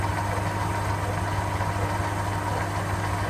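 An old lathe runs steadily at close range, a constant mechanical hum with a strong low drone and a broadband whir, unbroken and even throughout with no talk.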